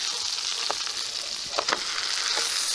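Steak sizzles in butter over a charcoal fire, a steady broad crackling hiss with a few brief scraping or stirring touches, close and continuous throughout.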